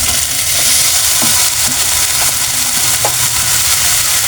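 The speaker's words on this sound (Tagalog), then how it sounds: "Nilagay na natin ng ating ampalaya." Bitter gourd (ampalaya) stir-frying in a hot pan, a loud steady sizzle and hiss with occasional scrapes and clinks of a spatula stirring through it, close and continuous.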